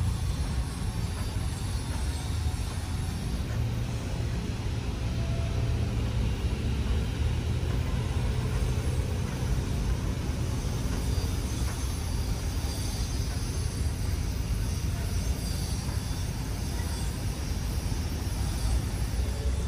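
Heavy machinery runs continuously at Dolomite Beach on Manila Bay, a dense, even rumble that holds steady throughout without pause.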